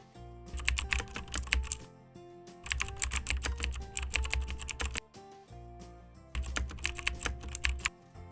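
Rapid typing on a computer keyboard, close and clear, comes in three bursts of quick key clicks separated by brief pauses while account details are filled in.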